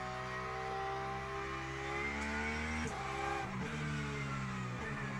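GT3 race car engine in the sim racing game Le Mans Ultimate, heard from the cockpit as a steady, fairly quiet drone that climbs through the gears, with brief pitch drops at the shifts.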